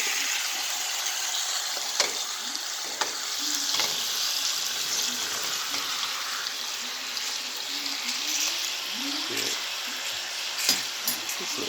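A ribeye steak fries in a pan, making a steady, dense sizzle that runs continuously with occasional crackles and faint low voices underneath.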